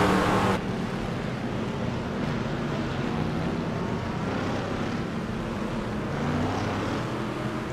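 Ford GT and Corvette race cars in a sim racing game at Montreal, a steady dense engine drone that runs continuously at moderate level after a brief louder opening.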